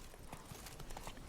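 Horse hooves clip-clopping in The Witcher 3: Wild Hunt, Blood and Wine, a steady run of hoof strikes at moderate volume over a continuous game soundscape.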